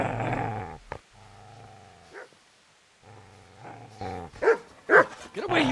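A dog growls and barks at a man in the medieval video game Kingdom Come: Deliverance, sustained low growling broken by a few sharp, loud barks near the end, with no talking.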